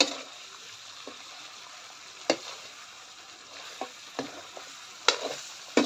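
Chicken feet and neck adobo frying in a pan: a steady soft sizzle with occasional stirring clinks and scrapes spread through, fairly close and no talking.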